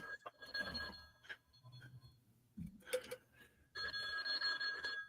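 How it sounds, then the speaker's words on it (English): Telephone ringing in a room, two bursts of a bright electronic ring separated by a pause, moderately loud, with low murmuring between the rings. "Phone's ringing"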